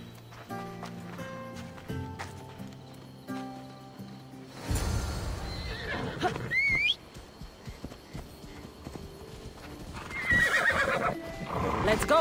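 A horse neighs and gallops on Naxos island in the Assassin's Creed Odyssey video game, a shrill whinny rising over clip-clop hoofbeats and music, with a voice talking.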